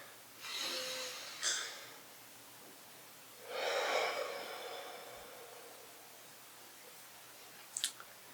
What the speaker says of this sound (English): let's take a deep breath